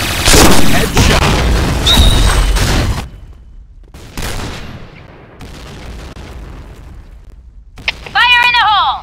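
Grenade explosions and gunfire from a Point Blank clan-war shooter game, with loud booming blasts and bursts that cut off sharply, quieter gaps between them and a shouted voice near the end.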